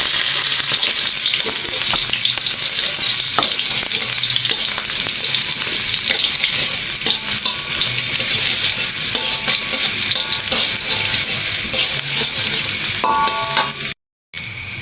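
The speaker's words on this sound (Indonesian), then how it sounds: "Sekarang kita numis kangkung" Water spinach (kangkung) stir-fried with shallots and garlic in a hot pan, a loud, steady sizzle and crackle with scraping stirs throughout, briefly cutting out near the end.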